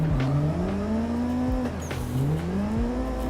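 A car driven in the racing game Assetto Corsa, its engine note climbing steadily through gears with repeated rev rises and drops at upshifts, loud and continuous with no voices.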